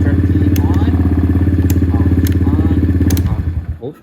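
A Venom dirt bike engine, just unpacked from its shipping pallet, runs loud and close with a steady, rapid chugging idle, then cuts out and sputters to a stop near the end.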